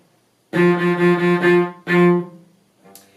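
A bowed cello plays a single low F natural on the D string in a short rhythm, four quick sixteenth-note strokes followed by two longer eighth notes, clear and close.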